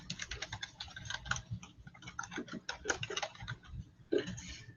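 Computer keyboard keys clicked in quick, uneven bursts with short pauses, close and fairly quiet, with no voices.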